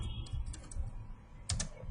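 Keystrokes on a computer keyboard as a short Linux command is entered, a few scattered clicks followed by a brief quicker burst near the end, fairly faint and close with no one talking.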